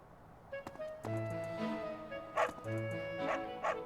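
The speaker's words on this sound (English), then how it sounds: "These are nice dogs" Dogs in the video game Fire Emblem: Three Houses bark and yip in short bursts layered over a tonal game music bed, fairly close and clear.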